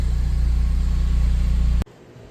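A Ford Bronco with its soft top open moving along a driveway gives a loud, steady low engine rumble that cuts off abruptly near the end, leaving faint background.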